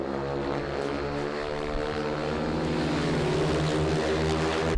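Speedway motorcycle engine running steadily on a large track at an AMA national qualifier in Perris, a loud sustained harmonic drone that builds slightly toward the end, with no talk.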